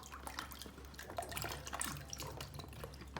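Peeled, cut yam being washed in water to clear off dirt, a steady splashing and trickling near a running tap with drips throughout and no voices.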